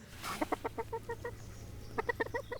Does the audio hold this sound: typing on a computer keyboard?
no